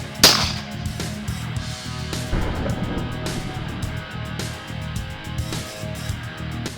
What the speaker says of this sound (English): we're going to try it with a Glock 19 and a 9mm